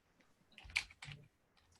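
Typing on a computer keyboard, a faint quiet cluster of a few key clicks bunched in the middle, close by and alone in an otherwise near-silent room.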